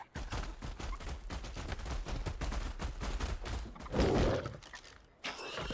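Rifle fire in the video game Ark Survival Ascended. It comes as a rapid, dense run of sharp cracks that fill the whole stretch, with a brief louder burst near the end.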